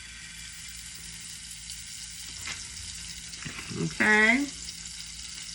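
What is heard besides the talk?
butter melting and sizzling in a frying pan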